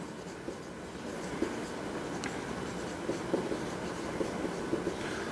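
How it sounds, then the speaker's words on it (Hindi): Chalk or marker scratching on a board in a classroom during a lesson on the large intestine, a faint steady scraping with small taps, alone under room noise. "लिख देता हूं।"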